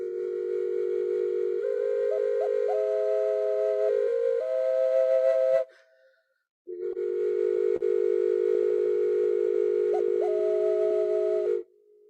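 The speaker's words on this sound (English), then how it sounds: "It's a triple ocarina. It's a tube ocarina." Triple tube ocarina sounding sustained tone clusters of several steady pitches at once, loud and close, with a few shifting notes, a brief pause midway, then another long held cluster.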